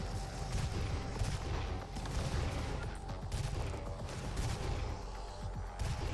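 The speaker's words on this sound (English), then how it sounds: "Rocket launchers." Rocket launchers and heavy weapons fire continuously in a demon-fighting video game, a dense, loud barrage of blasts and booms with no clear pauses.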